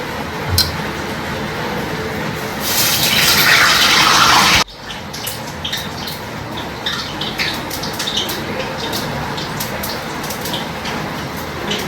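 Pomfret fish rinsed under running tap water in a home kitchen: a loud, steady gush of water splashing over the fish, which cuts off abruptly, then softer wet handling and clinks follow, with no talk.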